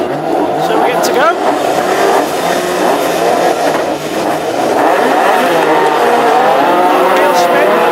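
National hot rod race cars at Birmingham circuit, a pack of loud engines revving and roaring past continuously with rising and falling pitch, while a commentator talks over the din throughout.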